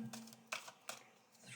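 Large oracle cards being shuffled by hand, giving a few soft, quick riffling bursts close by, spaced apart with a quiet, faintly talky background.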